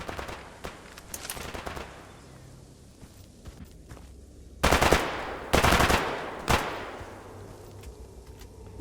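Gunfire in the video game S.T.A.L.K.E.R. Anomaly: after quiet footsteps and small clicks, three loud, close bursts of automatic fire ring out about a second apart, with no talking.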